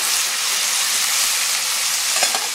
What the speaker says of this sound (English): Bacon's on, mushrooms is on.